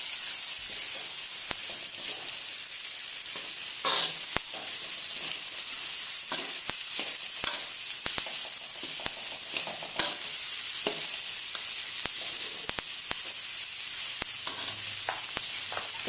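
Carrots stir-frying in a hot pan for lumpia filling, a loud, constant sizzle with scattered scraping taps of the spatula stirring, close and steady throughout, no voices.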